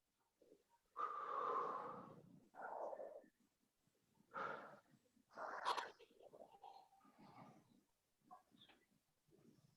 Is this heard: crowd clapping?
no